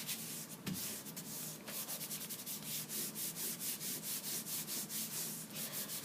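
Steady hand rubbing of paper over a printing plate, a dry rhythmic scraping repeated in quick even strokes, close and fairly loud, with no voices.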